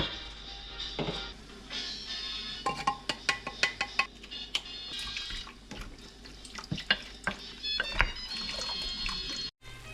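Tap water runs steadily onto frozen meat in a kitchen sink, a continuous splashing stream broken by clattering knocks and handling noises, close and fairly loud, with a brief drop near the end.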